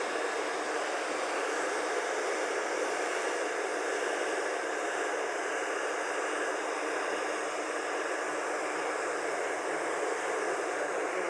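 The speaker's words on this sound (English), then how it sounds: "blow dry his hair a little bit" A hair dryer blows steadily while drying a man's hair before a taper cut, a constant airy whooshing hiss heard close and unbroken throughout, with no talking.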